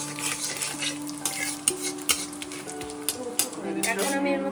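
Whole cumin seeds and spices sizzle in hot oil during the making of a Bengali chital fish curry, with steady frying hiss and intermittent scraping clinks of a spoon stirring against the pan.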